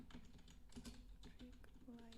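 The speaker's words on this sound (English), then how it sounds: "Type it in there." Typing on a computer keyboard comes as a quiet, irregular run of soft key clicks, faint and close, with a low voice murmuring underneath.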